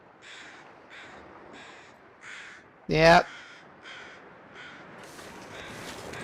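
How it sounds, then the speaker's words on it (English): Crows caw in short, evenly spaced calls overhead in a video game, with one loud, sharp burst in the middle and a short spoken word over the calls. "I think those are just some of the overhead crows."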